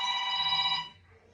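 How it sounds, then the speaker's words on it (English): A telephone ringer trills in a bright, steady electronic ring for most of a second, then cuts off, leaving quiet room noise. "I'm going to shut this phone off. Shut the ringer off."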